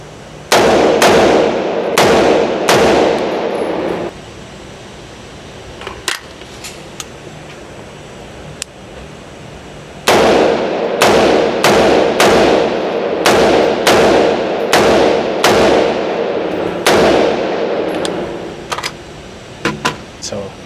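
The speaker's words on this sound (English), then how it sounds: "Now I'm gonna show you guys what it looks like actually shooting it live, low ready, high ready" Rifle fitted with a GBRS Lerna optic riser mount firing live at a range, a series of sharp loud shots in quick bursts of several, a pause, then another string of rapid shots.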